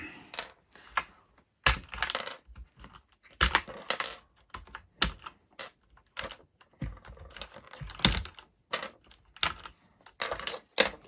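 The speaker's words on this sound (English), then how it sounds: "I'm going to take off the keys around the spacebar as well" Keycaps being pried off a keyboard around the spacebar during a repair, giving sharp, irregular plastic clicks and clacks, loud and close, with quieter fumbling between them.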